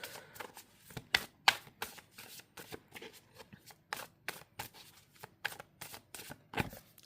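Astrology cards being shuffled by hand, a steady run of crisp riffling bursts and soft slaps at about two per second, close and alone.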